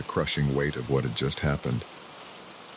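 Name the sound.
rain falling outside a cabin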